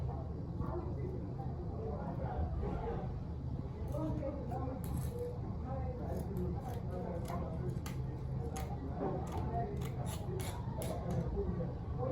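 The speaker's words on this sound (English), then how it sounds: "So I'm done with the cutting of the front" Scissors cut fabric for an evening gown, giving a run of crisp snips and clicks near at hand while a voice talks steadily over the cutting.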